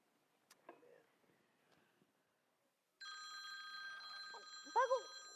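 A telephone rings during a church Christmas play, a steady electronic ring that starts abruptly and holds, following quiet stage talk, with a brief voice at the end.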